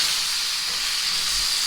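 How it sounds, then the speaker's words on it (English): Pork steak sears in hot bacon lard with an even, bright hiss that stays constant and fairly loud throughout. "you're going to add your meat one at a time because we don't want it to steam"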